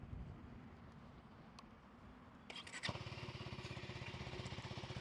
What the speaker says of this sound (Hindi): एग्जॉस्ट नोट सुना देता हूँ मैं आपको